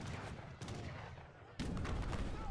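Cannon fire bombarding a town center in the strategy game Age of Empires III: two heavy booming blasts a second apart over a dense, continuous rumble of battle noise.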